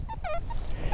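An XP Deus 2 metal detector giving short, close, warbling squeaks, a few brief chirps in quick succession over low ground hum.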